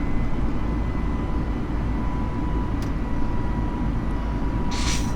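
Airliner engines in Microsoft Flight Simulator roar in a dense, steady rumble as they spool toward climb thrust, a thin whine riding over the continuous loud drone, with a brief click near the end.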